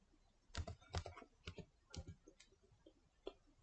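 Typing on a computer keyboard at close range, with a handful of quick irregular key clicks in short bursts and light taps between, in an otherwise quiet room.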